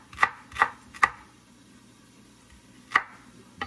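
A knife slicing half an onion on a cutting board gives three quick crisp cuts in steady rhythm, a pause, then one more, close and clear with no talking.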